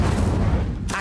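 An Incendio fire spell in Hogwarts Legacy: a dense, booming roar of flame and blasts filling the whole second, loud and continuous, easing briefly near the end.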